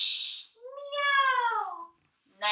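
A human voice imitates a cat's meow during a children's yoga class, a single drawn-out, rising then falling mewing call, close and clear, between brief breathy sounds.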